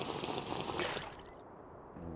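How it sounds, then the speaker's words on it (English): Bottled water being drunk in a survival video game, a short bright liquid gulping and splashing burst that cuts off abruptly after about a second, followed by near quiet and a faint click. "We drink the bottled water."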